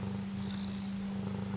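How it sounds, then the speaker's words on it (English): A contented cat purrs steadily up close, a continuous low rumbling hum without breaks, with no voices over it. "Listen to that purr, guys."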